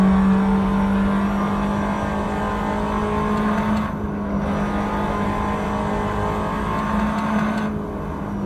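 A 2010 Tatuus FA01 race car engine in Assetto Corsa holds a high, steady whining drone while accelerating hard up Pike's Peak, loud and close, with a couple of brief dips as gears change.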